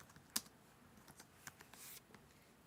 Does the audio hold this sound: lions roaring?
no